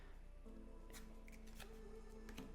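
A deck of Yu-Gi-Oh cards being shuffled and cut by hand, giving quiet, close papery riffles and a few crisp snaps over a low steady hum, with no talking.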